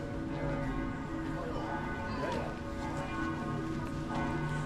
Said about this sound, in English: And you have 3 cathedrals here that are all chiming at the same time